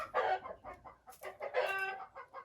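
Hens cluck in a chicken coop with litter bedding and hopper feeders, a busy run of overlapping clucks and short squawks, fairly close and steady for a couple of seconds with no talk.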